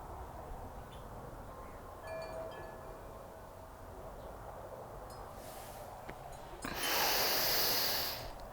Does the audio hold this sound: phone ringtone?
no